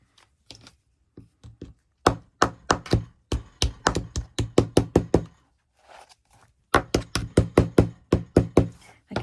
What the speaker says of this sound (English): I kind of hold it in place when I'm knocking down the first side so it doesn't knock it off kilter.